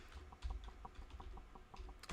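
Keys clack on a computer keyboard in a quick, uneven run of taps, close and fairly soft, with no voices alongside during a casual livestream at a desk.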